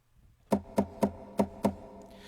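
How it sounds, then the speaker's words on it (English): A Yamaha Clavinova CVP-809 plays a guitar-body knock sound triggered by foot pedal: five crisp, hollow wooden knocks in a steady rhythm, close and distinct against near silence. "So I'm knocking on the guitar with my foot."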